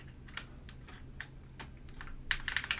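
Keystrokes on a Baron Boards BP-One mechanical keyboard, a few scattered clacks at first, then a quicker burst of typing near the end, close and moderately loud with no talking.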